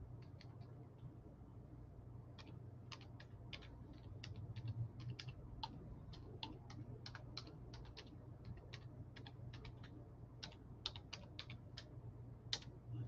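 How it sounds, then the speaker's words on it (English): Steady typing on a computer keyboard, close and faint, with quick irregular clicks of keystrokes continuing throughout over a low background hum, with no talking. "Type it in here."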